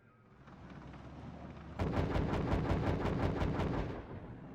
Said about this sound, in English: Okay, we'll bombard that then.